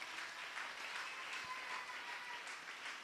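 A church congregation applauding, a steady wash of many hands clapping throughout, fairly distant and soft in a large room.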